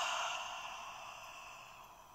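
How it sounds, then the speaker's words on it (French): A long, steady exhale through the mouth during a singing breathing exercise, close and quiet, fading gradually as the breath runs out. "Et une fois qu'on est en haut, on expire."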